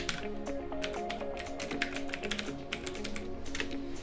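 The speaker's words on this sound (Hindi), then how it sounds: "यहाँ पे आपको टाइप करना है एमरॉन बैटरीज" Someone types the words Amaron batteries on a computer keyboard, a quick run of light, irregular key taps close to the mic with no talking.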